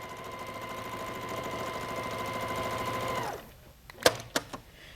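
A home sewing machine runs steadily and close while free-motion quilting meandering loops across a quilt block, then stops, leaving a few sharp clicks and taps.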